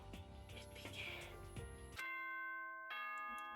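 A school broadcast system's ding-dong chime rings out as sustained bell tones after a burst of music, two clear tonal strikes that hang and ring, loud and close with no talking over them.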